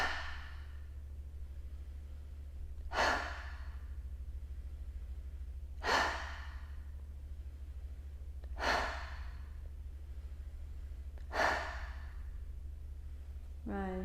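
Four forceful lion's breath yoga exhales come at regular intervals about three seconds apart, each a breathy rushing burst over a steady low hum, with a faint inhale at the end.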